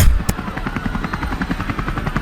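Helicopters flying overhead in a game, a loud rhythmic rotor thump pulsing rapidly and evenly, close and dominant throughout.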